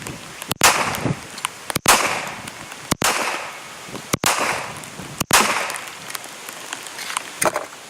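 A Ballester Molina pistol fires five 200-grain round-shoulder handloads, evenly spaced about a second apart. Each shot is a sharp, loud crack followed by a long, echoing outdoor decay.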